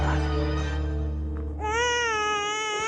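An infant wails in rising, drawn-out cries that swell loudly over a steady low background drone, becoming strongest in the second half.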